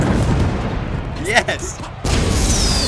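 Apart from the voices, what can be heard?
fireworks from a character in a video game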